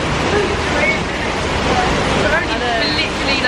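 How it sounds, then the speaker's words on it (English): Heavy tropical downpour in Ipoh, Malaysia, a dense, steady hiss-roar of rain that fills the scene evenly and stays loud for the whole stretch, with faint faraway chirps or voices barely showing through. "We're waiting out the rain. So heavy."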